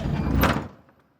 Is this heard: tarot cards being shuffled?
no